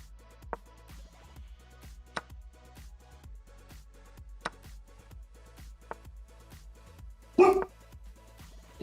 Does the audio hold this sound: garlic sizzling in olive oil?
no